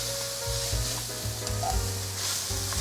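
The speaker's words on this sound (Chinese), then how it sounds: "继续炒，炒至调味料充分，炒匀。" Edamame stir-fried in a wok with sugar, salt, white pepper and sesame seeds, a steady close sizzle with repeated scraping stirs and tossing clatters running throughout, no voices.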